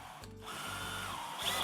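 A power drill bores a small hole into a 3x5 plywood block while a base cabinet is assembled, with a steady close whirring whine that runs nearly continuously and rises in pitch near the end.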